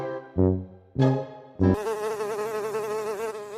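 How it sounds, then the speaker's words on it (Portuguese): Houseflies buzzing in a few short close passes that then settle into one steady, loud drone with a wavering pitch. "Quando a gente fala de moscas, dá até para imaginar aquela bagunça aérea que elas fazem."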